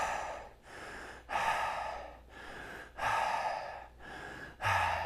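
Forceful, rhythmic deep breathing in the Wim Hof style, with four or five big pumping breath cycles, each a loud rushing inhale followed by a release, close and unaccompanied.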